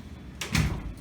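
A classroom door swings shut, a short whoosh then a single soft thud close by, alone without talk.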